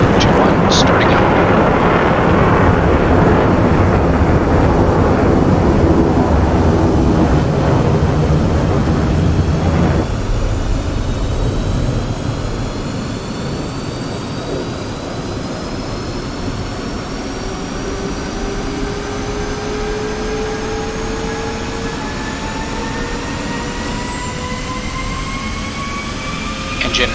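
A jet aircraft engine starts up in the combat flight simulator DCS World. A loud broadband roar fills the cockpit, then thins as rising turbine whines climb steadily and keep spooling upward, continuous and close throughout.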